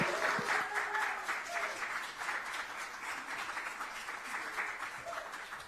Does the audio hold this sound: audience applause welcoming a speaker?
yes